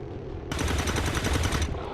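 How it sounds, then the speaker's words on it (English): Overwatch gunfire in XCOM 2, a loud, close rapid-fire burst of rattling shots lasting just over a second, breaking out suddenly from quieter game ambience and cutting off cleanly. "Let's get some good Overwatch shots in"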